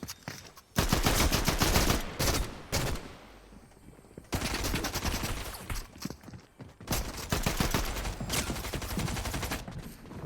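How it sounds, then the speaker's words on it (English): Rapid bursts of gunfire erupt in a video game shooter, loud, close volleys separated by brief pauses, alone without talk. "Someone shooting me from behind? Yeah, someone's shooting."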